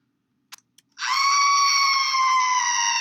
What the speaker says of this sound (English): we want to actually hear the scream